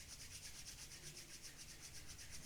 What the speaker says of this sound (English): Let's rub the palms one more time.